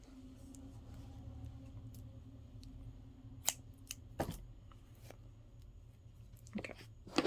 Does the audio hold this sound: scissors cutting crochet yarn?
yes